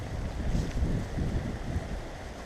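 Fast-moving brook water rushes in a continuous broadband wash, close and steady, with gusts of wind buffeting the microphone and no voices.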